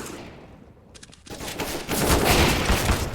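Gunfire during a Counter-Strike match on the Inferno map: quiet ambience, then a sudden burst of loud rapid shots that swells into sustained heavy firing.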